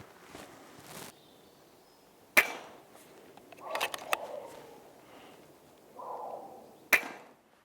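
An FX DRS Classic Synthetic .177 air rifle fires a few sharp, isolated cracks spaced seconds apart, with quieter handling and mechanical noises in between in a calm setting.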